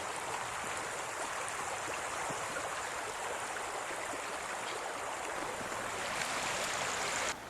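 A main river rushes in winter, giving a loud, close and steady wash of flowing water that holds constant throughout before cutting off sharply at the end.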